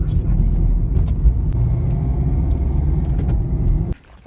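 Cars rumble and idle in a busy parking area at a traditional market in France, a steady close low engine drone with passing vehicles and faint clicks, cutting off abruptly near the end.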